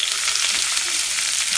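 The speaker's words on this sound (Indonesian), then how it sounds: "Tuangkan minyak ke dalam pan, tunggu hingga minyak panas. Kemudian goreng risol mayo satu persatu." Jumbo mayo risoles frying in hot oil in a pan: a steady, dense sizzle and crackle of bubbling oil, close and continuous with no talking.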